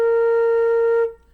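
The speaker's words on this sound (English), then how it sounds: "So first, everyone show me a B flat fingers. Sounds like this." A single flute note, B flat, held steady and clear for about a second at a strong level before it cuts off abruptly into near silence.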